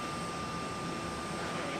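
Steady, low broadband roar of an Emirates Airbus A380 airliner, a continuous distant engine rumble holding even throughout with no voices.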